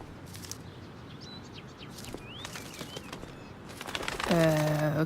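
A bird flaps its wings in the video game Life Is Strange: Before the Storm, a soft fluttering patter among faint chirps and ambient game sound, followed by a voice at the end.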